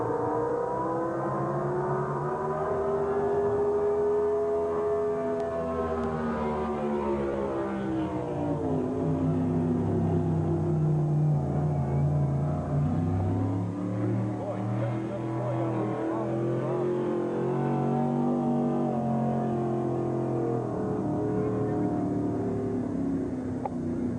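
Pro Gas flat-bottom drag boats race at the 1989 IHBA World Finals at Firebird, their engines a loud, continuous droning roar that rises and falls in pitch throughout.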